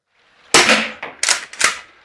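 An Umarex T4E HDX .68 caliber paintball shotgun fires three sharp, loud pops in quick succession at a target outdoors, each shot followed by a brief decay, with no talking.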